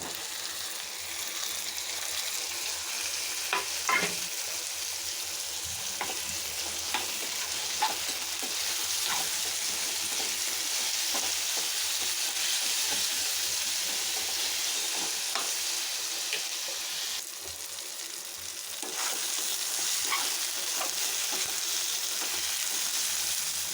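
Chopped tomatoes fry in a pan for a broad bean curry, giving a steady hissing sizzle broken by repeated scraping stirs of a spoon, close and even throughout with a brief lull near the end.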